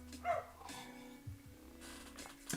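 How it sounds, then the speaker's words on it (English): An excited visiting dog on a play date barks and yips a few times, short scattered barks at moderate distance over a steady low hum. "Excited visiting dog is having a play date."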